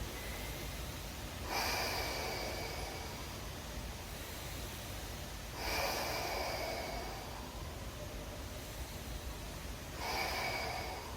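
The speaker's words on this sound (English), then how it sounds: "let's start to breathe" Slow, deep yoga breaths, three long airy exhales spaced about four seconds apart, each swelling over a steady hiss of room noise.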